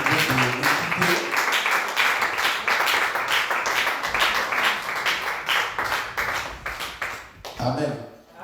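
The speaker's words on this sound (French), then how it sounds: "je vous prie encore qu'on acclame encore une seconde fois pour cette brave femme qui vient de nous quitter" An audience at a memorial tribute for a deceased woman applauds in a dense, continuous wash of clapping that lasts several seconds and then thins out near the end, with voices mixed in underneath.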